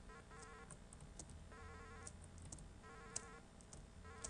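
Fast bees buzz in the DOS platform game Captain Comic, repeated bursts of chirpy electronic buzzing in quick rhythmic patterns, with small sharp clicks and game effects between.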